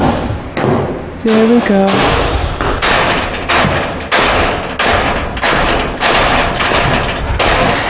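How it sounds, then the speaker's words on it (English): Thoroughbred racehorse in a stall banging on the stall door, a run of loud, heavy thuds and slams repeating roughly every half second, with a person speaking briefly amid the knocks. "But the banging on the door, you're trying to send a signal to somebody."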